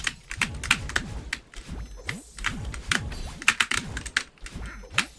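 A row of three computer keyboard jump keys is hammered rapidly during a stream, a dense run of close, clattering clicks with irregular bursts and no voices.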